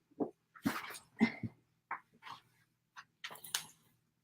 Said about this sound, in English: I have to introduce you to my dog Bamboo.